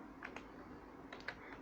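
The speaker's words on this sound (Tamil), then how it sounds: "இப்போது என்னென்ன சப்ஜெக்ட்ன்றதை நான் டைப் பண்ணிக்கிறேன்" Faint keystrokes on a computer keyboard, two quick clusters of light clicks separated by a short pause, quiet against low room hiss with no talk.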